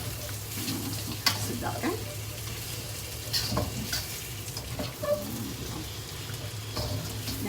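Beef sizzling in oil in a pan and being stirred, with steady crackling frying, occasional scrapes and clatters of the utensil, and a person speaking briefly over it.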